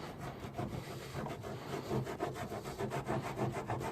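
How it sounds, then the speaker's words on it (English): An alcohol wipe rubbed over a Tesla Model 3's lower hood area before frunk seal installation makes a steady, quiet scrubbing hiss of repeated back-and-forth strokes, close up with no talking. "Then we're gonna take an alcohol wipe and rub it all around."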